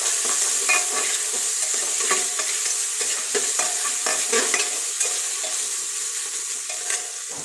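A spoon stirs and scrapes through chilli, carrot, potato and peas with ginger-garlic paste sizzling in a hot pan, a steady frying hiss broken by repeated clicks and scrapes, with no talking.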